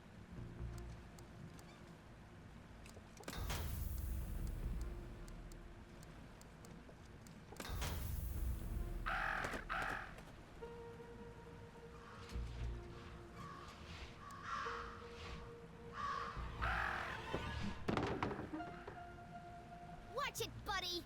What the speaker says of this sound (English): Talk about a murder of crows.